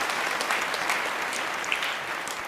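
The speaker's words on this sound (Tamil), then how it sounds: "உங்கள் கைத்தட்டலோடு அழைக்கிறேன்" An audience claps steadily at a Tamil debate show, dense, even applause filling the room without any voices over it.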